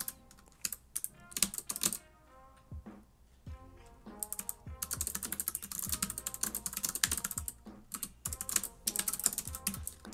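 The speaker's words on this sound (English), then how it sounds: "I don't look at the keyboard when I type." Fast typing on a computer keyboard, a steady stream of crisp clicky keystrokes in bursts with brief pauses, close by and alone.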